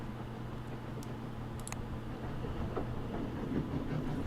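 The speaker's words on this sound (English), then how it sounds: "The train crawled up into the Urals and stopped at the town of Ekaterinburg." Train rolling on rails in the video game 80 Days as it crawls up into the Urals, a steady low rumble with faint rhythmic clatter, growing slightly louder toward the end.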